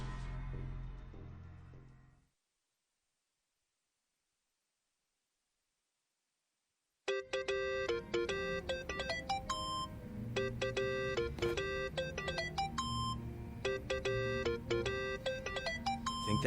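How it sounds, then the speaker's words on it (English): Mobile phone ringtone in the video game Yakuza: Like A Dragon, a repeating electronic melody of bright tones that starts after a brief burst of noise and several seconds of silence, then keeps looping loudly on its own. "Think that's your phone, man."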